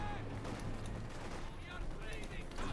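Bursts of rifle and machine-gun fire crackle through a Company of Heroes 2 battle between Wehrmacht and Soviet forces, a dense rattling fusillade under an ongoing voice of commentary.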